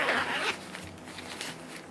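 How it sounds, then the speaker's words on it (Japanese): Zipper slider on a Black Diamond stretch shell jacket runs in a quick rasping pull, followed by softer fabric rustles and small clicks, close and fairly quiet. "ジッパースライダーの動きも"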